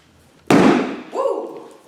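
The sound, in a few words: canned biscuit dough can popping open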